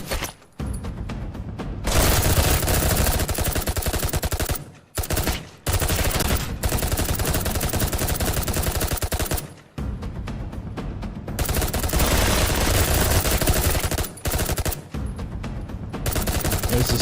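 Gunfire in the video game Citizen Vigilante blares as long, harsh, distorted machine-gun bursts that run almost nonstop for many seconds, broken only by brief pauses.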